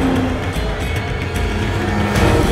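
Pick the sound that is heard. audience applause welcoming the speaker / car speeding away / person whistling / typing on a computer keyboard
car speeding away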